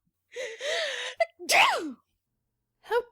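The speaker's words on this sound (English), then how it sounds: "Duchess gasps and gives a tremendous sneeze." A woman playing the Duchess in an audiobook drama gasps and then lets out one tremendous, drawn-out theatrical sneeze, loud and close, followed after a pause by a short vocal sound.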